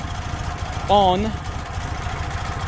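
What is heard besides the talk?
cold Fiat 126p engine idling roughly with choke on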